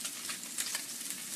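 Salmon pan-searing in a hot pan gives a soft, steady sizzle with fine crackling, close but quiet and unbroken.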